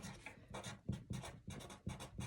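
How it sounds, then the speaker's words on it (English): Pen or pencil writing "1/4" in words on paper, a quick run of close scratchy strokes in short bursts with brief pauses, quiet and alone without talk. "I'm going to write it down in words"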